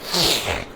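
A single close, loud human sneeze, a sharp breathy burst that fades within under a second.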